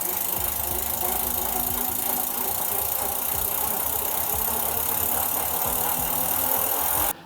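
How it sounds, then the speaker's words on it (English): A bicycle wheel fitted with a Maxxis Recon tyre at 10 psi spins on a rolling-resistance test rig, giving a loud, steady mechanical whir and hum with light rattling that cuts off abruptly at the end. "with the Maxxis Recon mounted, we start the wheels rolling"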